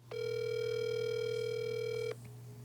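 A steady telephone dial tone sounds while a call is placed, holding a single continuous pitch for about two seconds before cutting off cleanly, loud and close with no voices.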